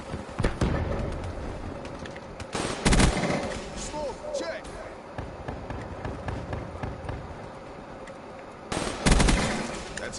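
Gunfire in a PS4 shooter game, short bursts of rapid shots at about one, three and nine seconds, loud and close, with quieter game sounds between them.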